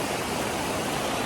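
Steady broadband rush of a waterfall at Baler, Aurora, a continuous even roar of falling water with no breaks or other sounds.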